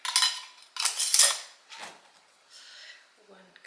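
Clinks and scrapes of a lid going onto a glass jar during home pantry stocking, several close metallic taps and a short twist in bursts, then quieter handling noises.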